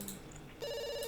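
A telephone rings again indoors with an electronic ringtone, a steady tonal trill that starts partway through after a brief quieter stretch.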